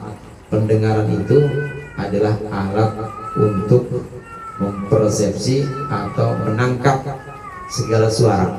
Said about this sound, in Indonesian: Suara kucing ya.